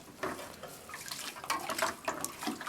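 A drywall trowel is set down and rinsed in a bucket of water, giving a few close splashes and sloshing bursts over about three seconds, with no voices.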